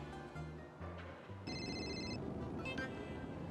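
A telephone rings on an outgoing call, with a steady electronic ringback tone and bright repeated tonal bursts over constant low background noise.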